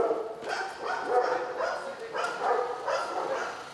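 Young German shepherd police dogs in training, repeated barks and yips in overlapping waves, fairly close and continuous, with a whining, whimpering edge in between.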